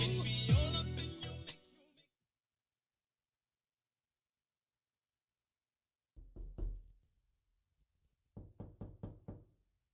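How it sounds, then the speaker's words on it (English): Two bursts of sharp knocks on a door: a short cluster of about three raps after a long silence, then a quicker run of about five or six raps, preceded by a brief stretch of music-like sound. "Is that the door? Somebody at the door?"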